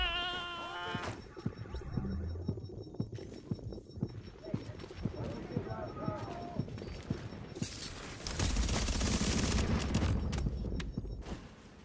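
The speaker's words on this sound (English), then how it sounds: "I'm gonna use some fire bullets to please slow him down" Incendiary rounds fired in the video game The Division 2, a rapid string of sharp, regularly spaced shots followed by a louder, denser burst of fire near the end, with a brief voice at the start.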